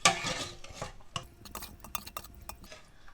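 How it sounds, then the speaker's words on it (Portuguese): Homemade coalho cheese curd being stirred with whey and salt: soft, wet sloshing and scraping from a utensil in a bowl, with a few light clinks, close and quiet, with no talking. "E dou uma mexida só para misturar tudo,"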